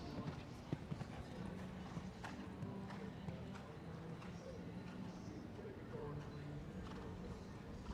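At an outdoor show jumping competition, an 11-year-old horse's hooves clip-clop steadily over a continuous bed of crowd and ambient noise, while an announcer talks.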